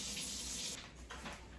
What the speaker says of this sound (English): I'm going to cool it even more by adding this cold water